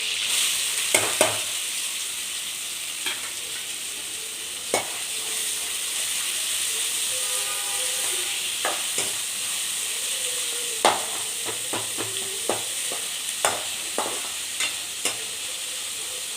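Chopped onion fries in hot oil with ginger and garlic, a steady close sizzle and hiss running throughout, punctuated by scattered light clicks and scrapes of a spoon stirring the pan.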